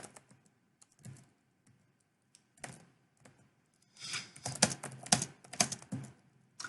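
HTML code is typed on a computer keyboard: faint, scattered keystrokes at first, then a denser, louder run of close clicking near the end.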